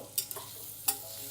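Onions frying in a pan for homemade paneer biryani, a quiet steady sizzle broken by a few short stirring scrapes, close by with no one talking.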